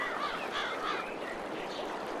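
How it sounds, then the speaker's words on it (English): Loud birds call and chatter in a town in Farming Simulator 22, squawking, duck- and crow-like cries overlapping steadily and close by with no talk over them. "where the birds are very loud"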